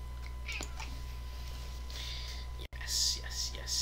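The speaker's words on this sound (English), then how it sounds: "You cute little kitten. Okay. She just wants attention." A kitten meows a few times close by, thin plaintive calls seeking attention, with a person talking softly over and around them.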